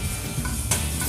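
Shrimp sizzle in a hot pan, a dense, steady crackling hiss filling the whole moment, close and fairly loud, with a brief stir or scrape near the end and no talking.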